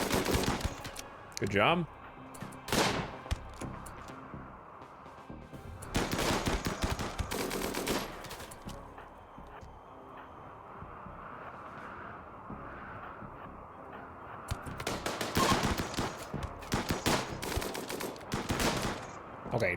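Bursts of automatic gunfire from a RimWorld firefight come in rapid clusters separated by quieter stretches, and a voice briefly speaks between the volleys.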